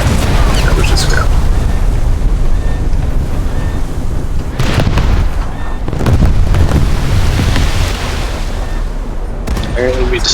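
Loud, rumbling booms from 5-inch shells hitting and exploding on a warship in a naval video game roll over a constant roar of noise. A voice talks over them.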